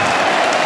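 Crowd at a Test cricket match between England and Pakistan on its feet applauding a batsman, a dense loud wash of clapping and cheering, continuous and close throughout the short moment.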